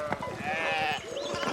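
Sheep bleat in the medieval narrative video game Pentiment, a couple of wavering calls close together on a farm with a fallen fence rail, heard alone with no talk.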